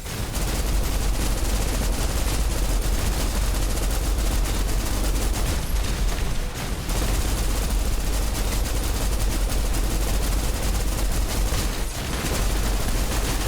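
Sustained gunfire from the shooter game Snowbreak rattles loud and dense for many seconds, rapid overlapping shots forming a near-constant barrage with only brief dips.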